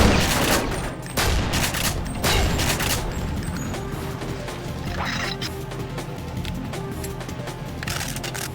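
Shotgun blasts in the video game Deus Ex, a few loud booming shots at the start with heavy reverberant tails, then a steadier rumble of in-game ambience and impacts.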